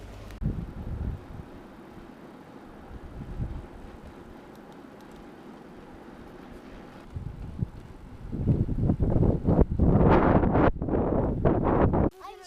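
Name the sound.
wind blowing at a camping spot in the Hebrides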